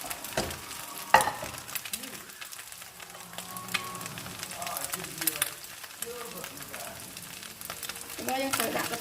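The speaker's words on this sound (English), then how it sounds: "You stir fry one bowl at a time, one serve at a time." Flat rice noodles stir-fried one serving at a time in a hot pan over high heat, a steady low sizzle with scraping stir strokes and occasional clatter, partly under a speaking voice.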